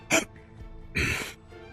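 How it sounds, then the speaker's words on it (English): Two short vocal hiccups, a sharp burst followed by a longer one about a second later, heard up close from a character in the PS2 game Syphon Filter: The Omega Strain, with faint game ambience between them. "Wow, I got the hiccups all of a sudden."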